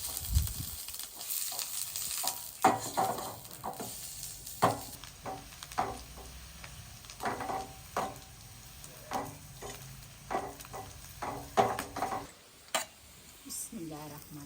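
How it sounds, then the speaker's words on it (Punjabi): Sliced onion for a tadka crackles and sizzles in hot oil for rice in a village kitchen during wedding preparations, a continuous close frying hiss broken by repeated stirring scrapes and knocks, with no speech. "ਇਹ ਨਾ ਪਿਆਜ਼ ਤਾਂ ਮੈਂ ਲਾਉਣ ਲੱਗੀ ਆ ਤੁੜਕਾ"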